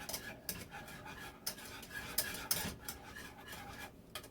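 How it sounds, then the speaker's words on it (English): A spoon stirring custard in a pot for peanut butter pie, giving soft scraping and rubbing strokes that come and go at a steady pace, close up, with no voices. "I'm going to go back here and stir this so it don't end up burning"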